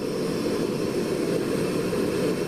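Canister camping stove burner turned up to full flame, giving a steady, loud roaring hiss with no breaks.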